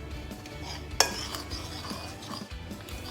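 Dry ingredients including self-raising flour stirred around a bowl, soft scraping swirls with one sharp clink of the utensil against the bowl early on, close and fairly quiet.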